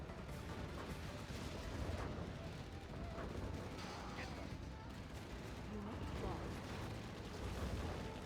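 Mammoth tanks fire in a video game amid explosions, forming a dense, continuous rumble of cannon blasts and detonations that stays loud and unbroken for over eight seconds.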